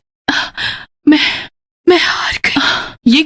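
A woman panting heavily and distressed, several loud breathy gasps in an uneven rhythm, close and separated by short silences.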